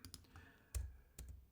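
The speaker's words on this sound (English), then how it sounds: "My typing leaves so much to be desired." A few light, scattered keystrokes clack on a computer keyboard, quiet and close, with gaps between the taps and no voices.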